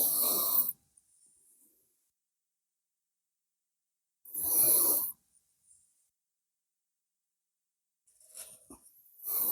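Deep breaths during a yoga stretch come in three separate bursts, each a forceful, breathy exhale separated by long silences.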